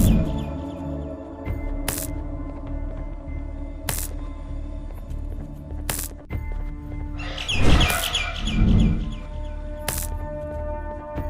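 Bird calls from the Garten of Banban game sound in a burst of squawking chirps midway, loud and close over a droning tonal background with regular sharp clicks.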